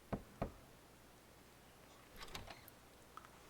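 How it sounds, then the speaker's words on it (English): Knocks on a door in the video game 428 Shibuya: Scramble: two sharp raps near the start, followed by fainter clicks and a soft rattle, all quiet with no voices. "He knocked on the door"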